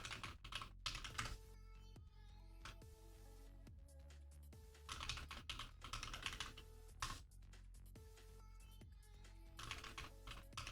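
Rapid bursts of computer keyboard typing during Unreal Engine 5 game development work, clattering keys in quick irregular runs separated by short pauses, steady and close throughout.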